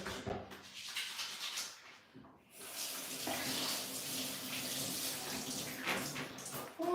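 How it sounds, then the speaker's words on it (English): Hands being washed under a running kitchen tap: a steady hiss of flowing water with splashing as the hands move through the stream, continuing without break from start to finish. "Let me wash my hands."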